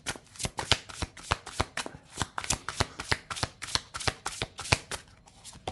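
A deck of Aloha oracle cards being shuffled by hand, with quick irregular riffling snaps repeating steadily throughout, close and crisp, with no talking.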